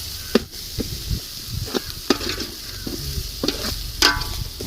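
Onions sizzle in a pan for chicken curry, a steady frying hiss broken by sharp clinks and scrapes of a spoon stirring.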